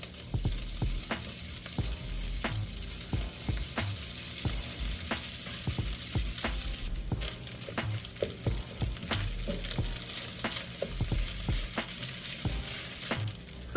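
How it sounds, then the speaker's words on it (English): Kerrygold garlic and herb butter sizzles steadily in a hot pan, with repeated sharp stirring and scraping clicks over the frying hiss and no talking. "Kerrygold garlic and herb butter. I've never used this before, but it's getting used today. I'm gonna fry this up."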